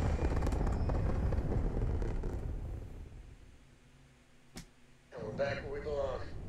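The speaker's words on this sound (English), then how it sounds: "And another beautiful takeoff." A spaceship lifts off in the video game Starfield with a loud, broad engine roar that slowly fades into quiet. A single sharp click follows, then a voice briefly speaks.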